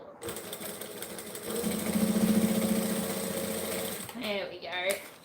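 A sewing machine stitches a seam with a steady, rapid mechanical whirr, close and fairly loud. A voice cuts in briefly near the end.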